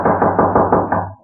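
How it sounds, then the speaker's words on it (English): Loud knocking at a door in a radio drama: a quick, even run of about six hard raps, close and alone, with no voices. "Suddenly a loud knocking at his door startled him."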